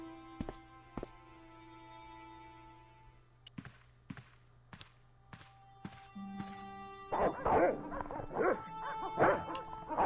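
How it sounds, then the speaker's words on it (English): Video game Broken Sword, dogs barking in short sharp bursts over a quiet musical background, growing into a louder run of excited barks and yelps near the end. "This guy did seem rather cantankerous about the dogs."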